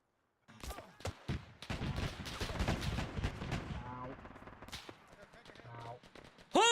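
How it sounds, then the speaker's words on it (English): Gunfire in the Arma 3 war game during a bomber mission, sharp rapid shots and bursts crackling close, with a heavy anti-aircraft gun pounding, under an excited voice. "Who's shooting at us?!"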